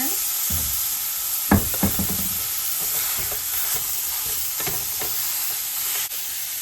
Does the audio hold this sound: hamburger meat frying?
yes